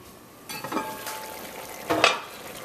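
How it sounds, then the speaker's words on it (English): Thick gravy for Caribbean stewed beef bubbles in a pot with soft popping and a couple of louder gurgling bursts, close up, over a low simmering hiss and with no talking. "Got a nice bubble going on in there"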